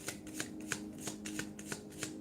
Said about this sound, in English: I'm shuffling the deck